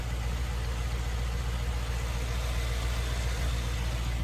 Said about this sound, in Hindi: Mercedes Benz M177 petrol engine है ये।